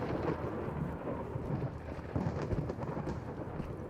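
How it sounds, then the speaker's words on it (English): Lightning storm in the video game Into the Radius, with a continuous deep thunder rumble and rain hiss throughout, swelling slightly partway through. "we've got ourselves a little lightning storm"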